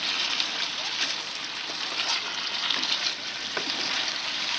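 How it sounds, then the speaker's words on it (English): Beef fries in a pan on the stove, giving a steady, dense sizzle close by, with occasional faint clinks and movement under the crackle. "I'm trying to cook the beef."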